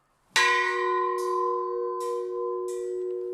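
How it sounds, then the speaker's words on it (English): A bell at a chapel, struck to signal activity rotation, rings out clearly: one sharp strike with a long sustained ring, followed by three lighter repeated taps as the tone lingers. "Scouts were signaled to rotate to the next activity by a Scout leader striking a bell at the chapel"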